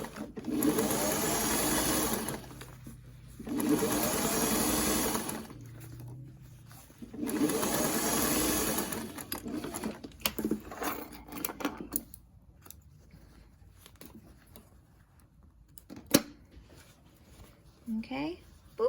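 A sewing machine top stitches a fabric face mask in two sustained runs of steady, rapid needle clatter, with pauses and a voice talking between them.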